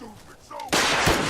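A missile fired at the player in Fallout 4 lands as a loud, sudden blast partway through, then a sustained roaring rumble. A voice can be heard just before the blast.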